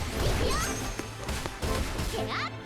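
Attacks land on an enemy in The Seven Deadly Sins: Origin, with several quick impact crashes and whooshing swipes in fast succession, loud over the game's busy effects.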